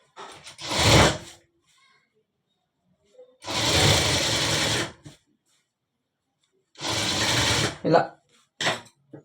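A sewing machine stitches a full-sleeve shirt in three loud, steady bursts of running, separated by pauses, with a short extra burst near the end and a voice speaking briefly between them.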